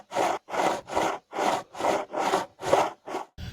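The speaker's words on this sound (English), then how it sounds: "So I will show you how to quickly set up your square to make these cuts fairly quickly with a circular saw." Repeated back-and-forth strokes cutting wood for a birdhouse project, about nine evenly spaced passes, each lasting roughly a third of a second, with brief pauses between them, close and steady with no talking.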